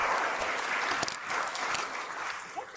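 Audience at a speaker series event on aging applauds to welcome a speaker, steady broad clapping from a room full of people, moderately quiet and fading slightly toward the end.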